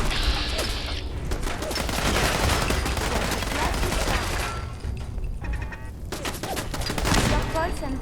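Sustained bursts of automatic gunfire from the video game Fallout 4 rattle loudly and continuously, with mechanical clicks and brief gaps between volleys.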